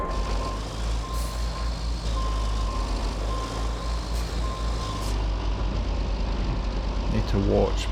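Intermittent reversing beeps from a video-game truck carrying a crane, sounding over a steady low engine rumble and occasional air hiss, with talk throughout.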